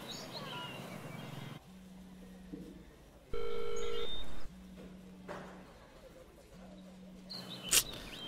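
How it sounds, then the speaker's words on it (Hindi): Several steady electronic tones sound in sequence, a higher and lower one held a second or so each, like phone dialing, with a faint chirp near the end. "सुगन, प्रियंका को फोन लगा, उसे बाहर बुला।"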